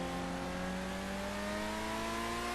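Överflöd Autarch supercar from GTA 5 driving: a steady, droning engine note with layered harmonic tones that rise slowly in pitch, continuous and fairly quiet, with no talking.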